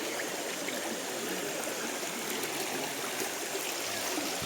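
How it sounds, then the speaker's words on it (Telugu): A forest stream near the Mamandur waterfalls outside Tirupati rushes in a steady, close, broadband wash of flowing water with no pauses. "సెలయేరు మొత్తం"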